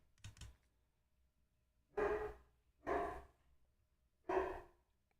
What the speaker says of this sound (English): Oh, the neighbor's dog.